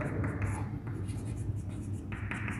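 Chalk or marker scratching and tapping on a board during a macroeconomics lecture, in steady bursts of strokes at close range over a constant low room hum.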